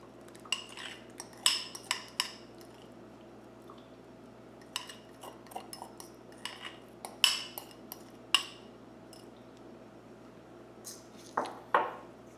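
A fork stirs flour, honey, water and egg in a bowl, producing scattered clinks and scrapes that come in irregular bursts separated by quiet pauses.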